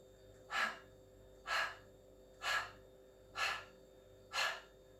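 Five slow, even breaths during a Pilates exercise, each a soft airy rush rising and fading about once a second, close and fairly quiet against a steady background hum.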